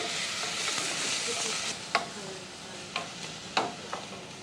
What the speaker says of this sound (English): The sauce for the cabbage begins with sautéed onion and bacon in butter.